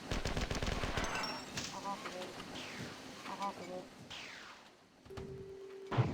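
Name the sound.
assault rifle gunfire in Marathon 2 video game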